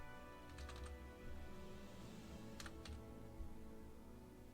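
Quiet computer keyboard typing, a few short clusters of quick key clicks over a steady background hum.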